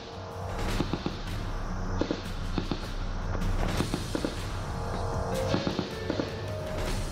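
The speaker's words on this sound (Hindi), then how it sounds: "जम्मू कश्मीर की खूबसूरत वादियों में गोलियों की आवाज" Gunfire during an encounter in Budgam, Jammu and Kashmir: scattered sharp cracks and pops, some in quick bursts, heard at a distance over a steady low rumble of wind and ambient noise.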